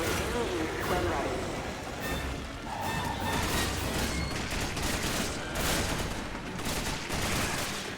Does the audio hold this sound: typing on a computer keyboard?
no